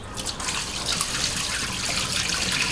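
Rice is washed in water in a Nigerian Nupe kitchen, water splashing and swirling steadily and close-up with a continuous watery rush and no talking.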